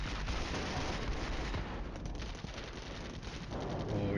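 Cold War wargame Flashpoint Campaigns under artillery: a continuous loud wash of explosions and rumbling blasts with crackling bursts layered through it, steady and dense without pauses or voices.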